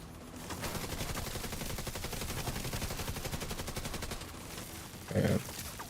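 Automated turret in a player-versus-environment shooter game fires a rapid, sustained burst of gunfire for several seconds, dense and loud, before stopping, followed by a brief game voice line.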